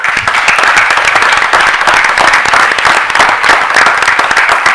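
A room at a school board meeting breaks into sustained, dense applause for an athletic director and coach, many hands clapping steadily and loudly without pause.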